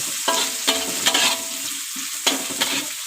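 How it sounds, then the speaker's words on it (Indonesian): Spring onion and celery leaves sauté in a pan with a steady, bright sizzle. Several sharp scraping stirs punctuate it, close and loud. "Dan sekarang kita tumis daun bawang ini, tapi asal layu aja teman-teman"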